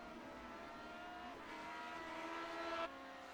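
Vintage-style Grand Prix race car engines in the iRacing Grand Prix Legends sim at Indianapolis Motor Speedway, a steady high whine that swells and rises in pitch before dropping off abruptly, with no talk.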